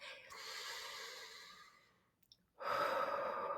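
Slow, deep breaths drawn in and let out during a calm guided meditation, a long audible exhale followed by a near-silent pause and then a fuller, louder breath, close and unhurried.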